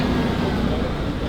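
A car passing outside a house on a residential street, a steady broadband road rumble that holds loud and even throughout, with no clear approach or fade.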